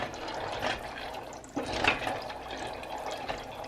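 Pasta boils in a lightly salted pot of water on a hot stove, a close, steady bubbling and churning with small splashes throughout.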